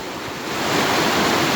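The Chattooga River rushes through Bull Sluice rapids in Georgia, a steady broadband roar of whitewater heard from above, swelling slightly louder partway through.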